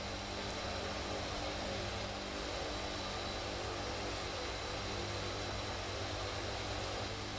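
A zebra-striped airplane in a flight simulator game flies with a constant, unbroken engine drone that stays level and fills the whole stretch with no talk.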